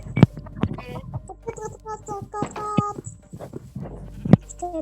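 A chicken in a video game clucks repeatedly in short, irregular bursts with sharp squawks, close and fairly loud, with clicks and game noises in between.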